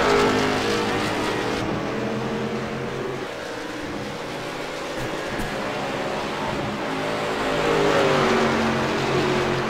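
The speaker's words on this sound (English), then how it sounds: "we got some cars hitting the track." Late model sportsman race cars take the Iowa track in the Fascar racing sim, with loud, steady engine drones and rising revs layered together and continuing throughout.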